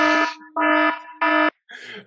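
Alarm sound effect played during a podcast: loud, harsh buzzing electronic tones in three even bursts separated by brief gaps, followed by a shorter, rougher fourth burst.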